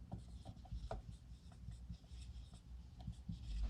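Pen scratching steadily across paper while notes are written out by hand, with quick irregular strokes and taps, close and quiet, with no talking.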